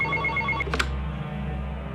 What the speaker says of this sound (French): Vers 21h30, le téléphone sonne à la caisse du cinéma.